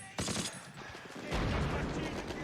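Gunfire rings out in a Band of Brothers war scene, with rapid bursts of shots and an MG42 machine gun, loud and dense. The shots rise into a sustained volley with heavy rumbling.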